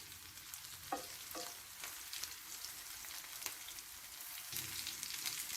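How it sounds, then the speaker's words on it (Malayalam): Beef 65 deep-frying in hot oil with curry leaves, a continuous dense bubbling sizzle with occasional stirring knocks, steady and moderately close with no talking. "അപ്പോൾ നല്ലതുപോലെ ഒന്ന് ഫ്രൈ ചെയ്തിട്ട് എടുക്കാം."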